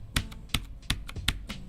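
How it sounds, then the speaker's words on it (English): Keys on a keyboard with clacky-style switches strike in a steady rhythm, each press a sharp, close click followed by softer return taps, with no one talking. "these are the clacky style of switches"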